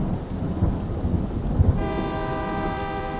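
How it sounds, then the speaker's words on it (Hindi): Deep thunder rolls in a low, continuous rumble during a pre-dawn storm in Nalgonda district, Andhra Pradesh. In the later part a steady, faint tonal hum joins the rumble. "सुबह लगभग 4:15 तेज बारिश हो रही थी और आसमान में बिजली कड़क रही थी"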